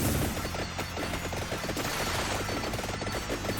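Vampire Survivors gameplay with the fire wand weapon firing: dense, continuous rapid crackling and popping bursts like a fusillade, loud and unbroken, layered over steady game sound.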